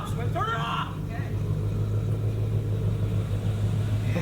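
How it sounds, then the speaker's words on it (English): A car engine runs with a steady low rumble that holds close and constant throughout, while a person speaks briefly over it near the start. "It's like dad's car running again"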